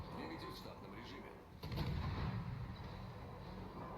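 A 130 mm naval gun volley from the Khabarovsk gunboat in a naval video game, a single heavy boom partway through that rolls on over steady background rumble and game noise, moderately loud.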